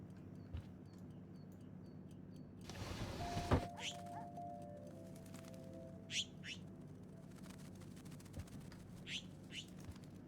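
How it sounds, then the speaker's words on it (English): Bird chirping indoors in Life is Strange: a few short, high tweets scattered across the scene over a low game ambience, with a brief thump and whooshing rush near the start. "Oh, great. You've let a bird in."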